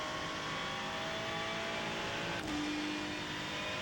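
A race car engine in a sim racing game played on a Fanatec ClubSport direct-drive wheel holds a steady high-pitched drone as the car accelerates, with a brief shift in tone midway.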